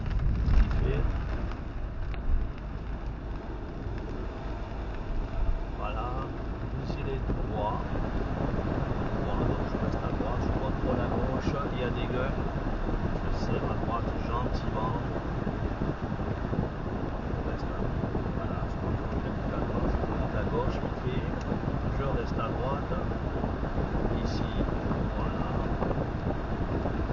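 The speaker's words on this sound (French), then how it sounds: "Je vais mettre un petit peu de ventilation" A car ventilation fan blows steadily during a driving exam lesson in Montpellier, France, giving a constant broad whoosh mixed with road rumble for the whole stretch, with voices occasionally heard underneath.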